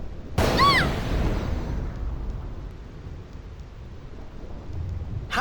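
A sudden loud thunderclap booms on the Thunder Plains in Final Fantasy X, then rolls into a long rumbling decay under steady rain-like noise. Another burst begins at the very end.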